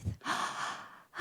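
A roomful of people draws in one long, deep breath together, a soft airy rush lasting about a second after a brief low exhale, fairly close and with no talking.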